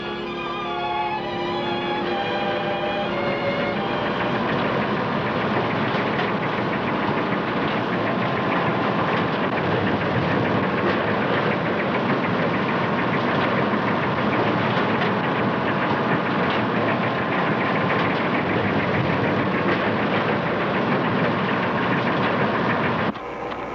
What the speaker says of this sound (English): The kelp harvester was working above